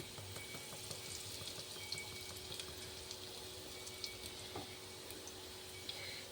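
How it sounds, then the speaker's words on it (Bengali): Asafoetida frying in hot mustard oil in a home kitchen, a steady soft sizzle with scattered crackles and pops running throughout, fairly quiet and uninterrupted by voices. "এদিকে তেল গরম করে নিচ্ছি, সর্ষের তেল। আগে দেবো হচ্ছে হিং"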